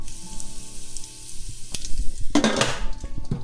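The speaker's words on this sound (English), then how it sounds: "add in a couple tablespoons of your kernels. I have an organic non-GMO corn here." Organic non-GMO popcorn kernels added to hot melted fat in a pot, a low sizzle that swells into a loud burst of crackling and spattering partway through, with no talking.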